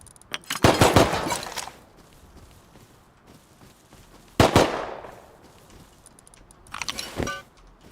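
Bursts of gunfire in the survival game Rust, two rapid volleys of sharp cracks followed by a shorter third burst, loud and close with quiet gaps between.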